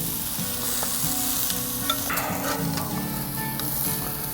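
Squash sizzles steadily on a barbecue grill, a loud continuous hiss close up with a few faint scrapes and clicks as the pieces are flipped on the grate.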